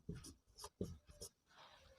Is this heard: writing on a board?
yes